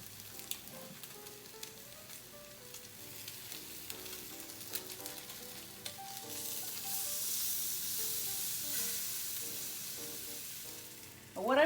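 Salmon pan-searing in salmon oil and a little grapeseed oil over medium-low heat, a steady close sizzle and crackle that swells louder partway through, with no talk.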